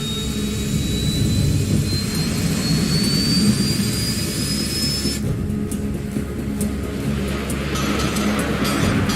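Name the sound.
F-104 Starfighter jet engine accelerating in Ace Combat 7 video game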